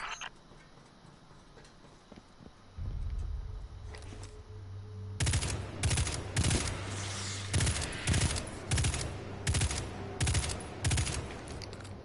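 Destiny 2 pulse rifle firing in short, evenly spaced bursts, loud and punchy, after a quieter stretch of low hum and a sustained low drone, repeating steadily to the end.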